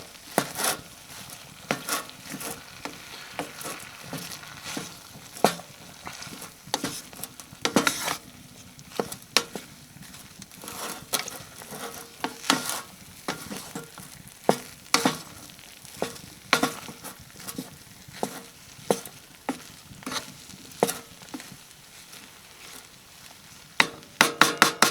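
Food sizzles softly in a pan on a camp stove inside an overnight hot tent while a utensil stirs and scrapes, giving sharp irregular clinks against the metal over a low frying hiss.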